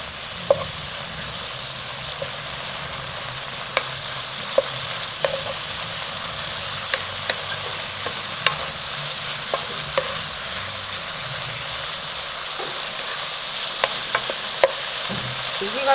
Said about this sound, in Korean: 지금은 볶고 있는 중이기 때문에.